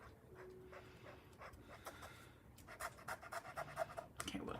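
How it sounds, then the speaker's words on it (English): A dog pants and snuffles nearby in a room, faint at first then rising into a quick run of breathy huffs and small whimpers toward the end. "my dog is making some noise over there"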